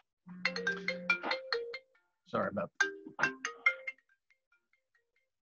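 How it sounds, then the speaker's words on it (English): A mobile phone plays a melodic ringtone, two bursts of bright tonal notes separated by a short pause, close and clear, with a brief spoken word among them. "Got to turn my phone off."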